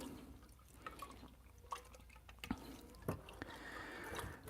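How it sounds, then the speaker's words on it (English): Butter kneaded by hand in a bowl of cold water while it is being made: soft, close splashes and drips over a steady low background, with a few sharper wet squelches partway through. "we're going to knead it inside of the cold water"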